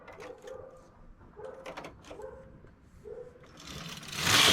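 A knitting machine carriage pushed across to knit a row of tuck stitch, giving a mechanical whirring hum in repeated strokes with clicks between them, ending in a louder rushing sweep at the end of the row.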